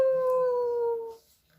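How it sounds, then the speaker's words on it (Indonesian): A single drawn-out wolf howl, clear and tonal with a slowly falling pitch, loud and close, holding for about a second before cutting off into near silence. "Ia pun ikut-ikutan melolong seperti serigala."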